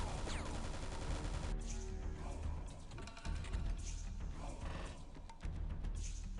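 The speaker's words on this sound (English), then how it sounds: "I might as well just shoot the Beastmaster." Gunfire from the video game X-piratez crackles in dense, rattling bursts, like a fusillade, over a busy mechanical clatter that barely lets up.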